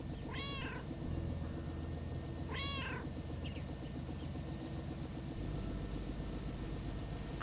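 Two distinct cat meows sound in a video game lake setting, short and rising, heard alone over a constant low engine-like hum, with faint chirps afterward.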